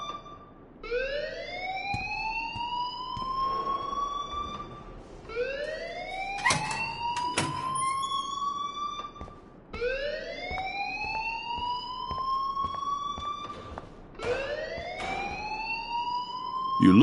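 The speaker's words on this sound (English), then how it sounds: "please turn off that alarm since that's your job" A video game alarm sounds in four repeated rising sweeps spaced a few seconds apart, loud and steady over background hum and scattered clicks, with no speech.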